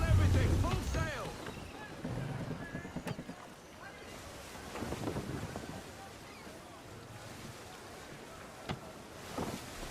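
A sailing ship under full sail at sea in Assassin's Creed 3, with rushing wind and wash of waves around the hull, plus creaks and thumps, as voices talk over it.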